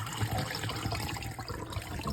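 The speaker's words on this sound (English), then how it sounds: "try to drain most of the water" Rinse water pours off a pot of white rice in a steady close splashing stream, continuous and moderately loud throughout.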